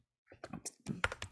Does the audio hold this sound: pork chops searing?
no